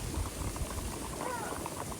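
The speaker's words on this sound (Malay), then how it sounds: "Tengok, air menggelegak." Water boiling hard in Bandung, Indonesia, a steady close bubbling and churning that runs throughout, with faint voices nearby.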